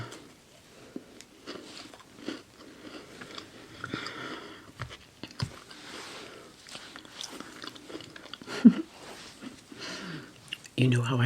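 Crunchy bites and chewing of crinkle shortbread Christmas cookies, close-miked with soft crinkling and moist mouth sounds at an uneven pace, and a louder crunch near the end.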